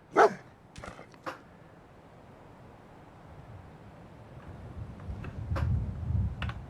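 A dog barks a few times near the start in a Fallout video game, sharp distinct yips, followed by quieter scattered ticks and a rising low rumble of ambient game noise.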